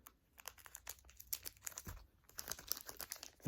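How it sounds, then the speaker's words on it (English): Plastic-wrapped card packs being torn open by hand, close, quiet crinkling and tearing in irregular bursts with sharp rustles and a soft thump, no talking. "I am struggling open up these packs"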